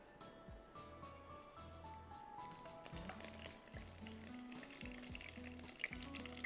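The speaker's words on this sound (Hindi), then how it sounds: "ये डालेंगे और फिर हम इसमें चिकन डाल के इसको हम फ्राई करेंगे" Boneless chicken cubes fry with ginger garlic paste and curry leaves in a pan, a steady soft sizzle running throughout with faint stirring, while light background music plays beneath.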